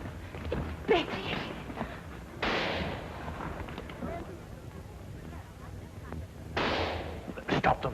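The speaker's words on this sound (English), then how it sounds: "Stop them firing." Gunfire in a 1930s shootout: sharp shots and heavier booms go off in scattered bursts at a distance, with voices and background commotion between the reports.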